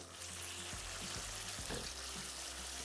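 Garlic and ginger fry in a pan with a steady, soft sizzle and faint bubbling, fairly quiet and continuous, with a few low thumps from stirring and no talking.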